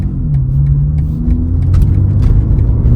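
A BMW G80 M3 with a JB4 tune pulls hard on a highway, its engine rumbling loud and deep as the pitch climbs steadily through the revs, with no talking over it.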